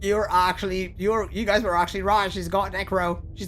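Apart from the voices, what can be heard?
None of the usual background noises is heard.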